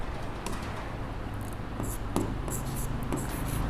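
Chalk or marker scratching across a board while a physics calculation is worked out, a steady run of short scraping strokes close by over a low room hum, with no talk.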